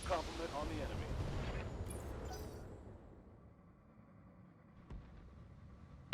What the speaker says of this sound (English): we'll shoot at this striker